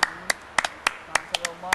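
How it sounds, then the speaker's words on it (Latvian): A few scattered hand claps from an audience at a live Latvian show, sharp separate claps in an uneven rhythm, loud and close, with a voice speaking briefly underneath. "Aplausis!"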